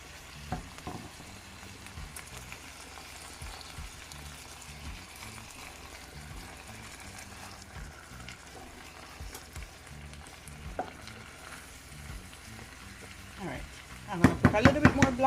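Ackee and saltfish stirred as it fries in a pan on the stove, a low continuous sizzle with soft scraping stir strokes, ending in a few louder clattering knocks.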